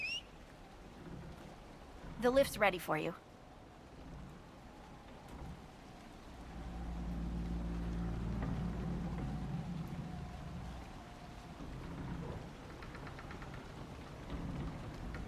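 Steady rain keeps falling through a stormy scene in Dragon Age: Inquisition, with low rumbling swells like distant thunder and a burst of clattering near the start, while a voice speaks briefly over the weather.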